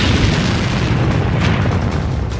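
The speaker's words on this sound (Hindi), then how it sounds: "इसके बाद ये टैंक जलता रहा और फिर हुआ ऐसा धमाका" A burning tank struck by a Lancet drone erupts in a heavy, sustained explosion, a dense roaring boom filling the whole moment, loud and close without any talk.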